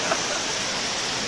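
Water in Marrakech rushes in a steady, even wash of broadband noise, close and fairly loud, a short continuous flow with no voices over it.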